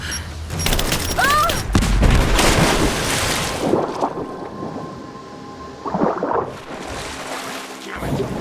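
Heavy explosion in the video game Rise of the Tomb Raider, a loud deep boom erupting early and rolling into a long rumbling tail with debris and wind-like noise, followed by smaller blasts near the end.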